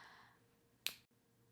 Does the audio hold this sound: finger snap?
yes